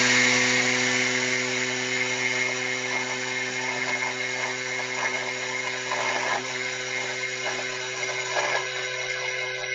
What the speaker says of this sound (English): now for 20 seconds, we're just going to quickly grind everything